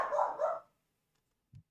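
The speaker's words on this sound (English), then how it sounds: "My dog sounds angry." A dog gives two quick angry barks close by, followed by silence and a faint low thud.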